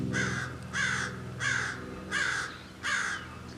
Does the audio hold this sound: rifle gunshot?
no